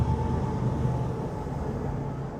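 A train rolls past nearby, a steady, heavy rumble with a faint whine that holds loud and even throughout, with no talking over it.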